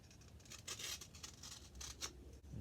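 Scissors cutting a length of HVAC adhesive foil tape, close, crisp snipping and crinkling strokes repeated several times, faint and alone.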